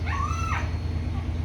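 Dog whimpers for hamburger with a short, high, wavering whine, close by over a steady low background hum and no talking.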